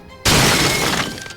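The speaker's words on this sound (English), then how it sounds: "that should shatter the ice and therefore remove the status effect from the wolf" Ice encasing a frozen wolf shatters with one loud, sudden crash in the fantasy battle game Sable, a bright glassy burst that rings and slowly fades over about a second.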